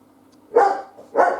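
A pet puppy barks twice indoors, two loud, close yaps about half a second apart over a faint low hum, with no talking.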